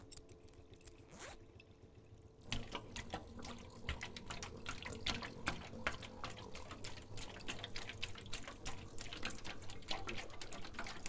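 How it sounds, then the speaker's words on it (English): In the Conway: Disappearance at Dahlia View game, a pump clears a flooded basement, producing soft trickling and splashing water with irregular drips and gurgles that grow slightly louder partway through, quiet and fairly close. "The pump is set to clear the basement of water."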